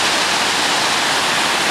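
A glacier-fed river rushes down toward Joffre Lake in British Columbia, a loud, steady roar of tumbling water heard up close with no break or voices.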